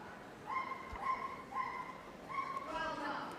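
Agility dog at Crufts 2024 barking in a series of about five bright, yappy barks at an even rhythm, fairly near over low arena noise.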